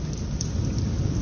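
A heavy thunderstorm roars with steady, dense rainfall and a deep low rumble of thunder running underneath, loud and continuous throughout.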